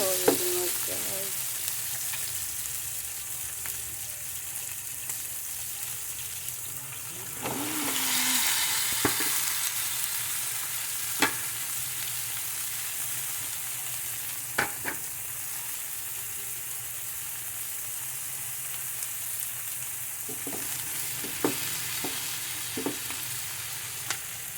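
Bottle gourd (upo) sautéed with shrimp sizzles steadily in a pan, a continuous frying hiss with occasional stirring clicks and a brief louder burst partway through, no talking.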